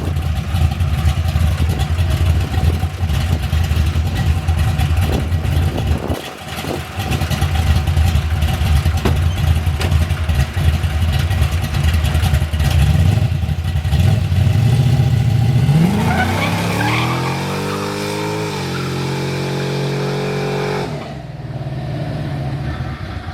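A Chevy S10 pickup with freshly changed spark plugs roars loudly and steadily while driving, its engine revving and climbing in pitch near the end before settling back, heard close up.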